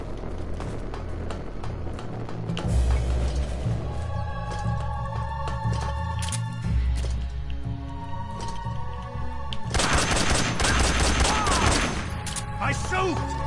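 Bursts of video game gunfire in Metal Gear Solid 3, dense volleys and single shots cracking over a layered in-game soundscape, with a heavy stretch of rapid fire near the end.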